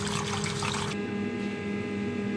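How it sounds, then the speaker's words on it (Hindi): Raw fish pieces rinsed under a running kitchen tap, a steady close hiss of flowing water that sharpens and thins partway through as the stream shifts, with no voices. "टैप वाटर से आपने इसको अच्छी तरह से इसके एक एक पीस को धो देना"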